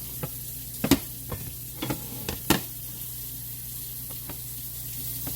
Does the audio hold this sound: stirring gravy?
yes